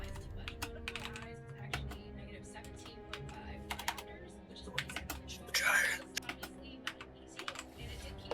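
Fingers tap a computer keyboard to enter a character name, with bursts of quick clicks spread across the clip and a short louder flurry partway through. A voice speaks quietly at times under the typing.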